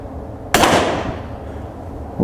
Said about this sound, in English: I'm going to try my luck at some small bore rifle